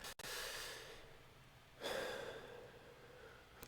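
A person takes a slow, audible breath in, followed by a softer exhale. Both are close and quiet with no talking.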